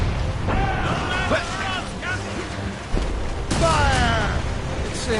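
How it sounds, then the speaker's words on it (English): Ship cannons fire a volley in the Assassin's Creed Rogue naval combat game, broadband booms landing around 1.3 s and 2.9 s over a steady rumble of sea and wind, with in-game voices shouting through much of it. "On your mark, Captain! Fire!"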